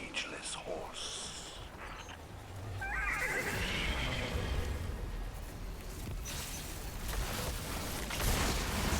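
A ghostly horse neigh and whinny echoes through a noisy, dense Destiny 2 game soundscape, with whispery effects and rumbling layered beneath.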